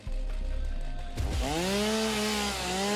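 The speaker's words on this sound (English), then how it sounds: "Let's use our chainsaw here as well" A chainsaw in the video game Satisfactory cuts through vegetation with a close, buzzing motor whine that revs up sharply partway through and then holds a steady, loud drone.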